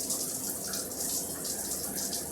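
Shower water streams steadily in the video game Katawa Shoujo, a continuous close hiss of spray that stays even and unbroken throughout, with no voices.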